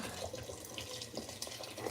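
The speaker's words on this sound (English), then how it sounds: "I have my hot water ready. I'll put it right in the soup." Hot water poured into a pot of tilapia soup, a faint splashing, trickling pour with small drips and bubbles, quiet and close, without any talking.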